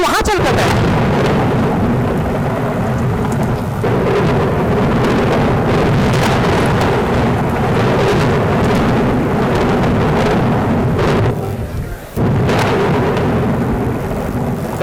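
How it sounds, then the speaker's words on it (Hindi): Heavy storm noise with thunder, a loud, continuous rumbling roar that fills the whole span with little let-up, close and overwhelming, with a brief dip near the end. "बहुत बिजली कड़क रही है, मुझे तो डर लग रहा है।"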